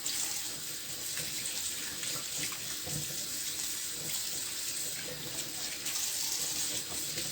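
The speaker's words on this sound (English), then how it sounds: "I'm running warm water on it to have a proper cleaning" Warm tap water runs steadily into a kitchen sink over raw meat being cleaned, a continuous close hissing splash with faint handling sounds and no talk.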